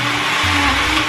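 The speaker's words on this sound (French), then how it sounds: "Et puis, le mixeur est quand même là pour ça." An electric blender whirs through milkshakes, a loud, steady, close motor whine filling the short moment with a slight pitch drop partway.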